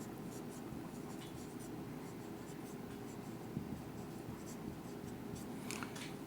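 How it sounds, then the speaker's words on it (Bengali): Pen scratching steadily across paper during an accounting lesson, close and quiet, with light strokes and occasional taps over a low room hum and no talking. "উত্তোলনের সুদ লিখি"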